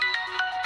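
A mobile phone ringtone plays a short, bright, repeating electronic melody, close and clear with no one speaking over it.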